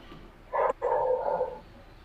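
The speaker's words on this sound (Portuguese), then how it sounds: "Ei, mano, silencia esse cachorro aí," A dog gives one short bark followed by a drawn-out yelp somewhere nearby in a room, a single brief outburst against a quiet background, with no talk.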